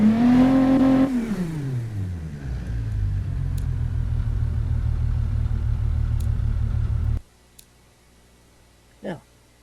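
In the game Automation, an engine revs up to about 1,500 rpm with a rising rumble. It settles into a steady idle drone and then cuts out, leaving a few faint clicks and a brief vocal sound.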